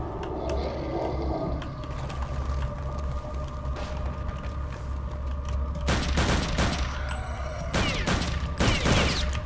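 Bursts of gunfire with metallic ricochet pings in Return to Castle Wolfenstein, loud dense volleys in the second half over a steady game hum and mechanical clatter, with no talk.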